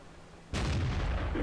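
An SU-85i tank gun in a tank video game fires a single sharp, loud blast that rolls into a lingering boom after a quiet lead-in.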